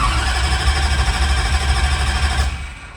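A diesel drag truck engine idles steadily at about 190 RPM, a loud, close, rumbling drone that rattles evenly and then eases off slightly at the very end.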